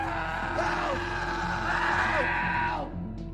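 A man yells loudly for help, desperate and sustained, in the survival film 127 Hours; a strained, wavering shout rings out close and carries on for a few seconds before breaking off.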